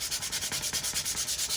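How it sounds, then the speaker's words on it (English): Rhythmic hand sanding of a piece of wood, strokes repeating about every tenth of a second, close and steady with a broad raspy hiss and no talking. "So we'll sand it down"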